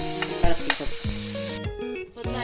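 Crushed garlic and shallots frying in heated coconut oil, a loud close sizzle broken by stirring clinks and scrapes against the pan.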